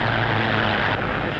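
A propeller-driven airplane flies past, its steady engine drone and airscrew hum loud and continuous for the whole moment, with no voices over it.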